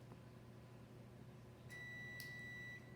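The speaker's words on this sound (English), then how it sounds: "that's the oven, it's ready" An oven timer signalling the oven is ready in a home kitchen: a short series of high electronic beeps, one long tone then another, fairly clear over a quiet room hum, no talking.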